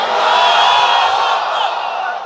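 A large crowd at a sermon shouts the takbir in unison, one loud sustained roar of many voices that tails off slightly toward the end.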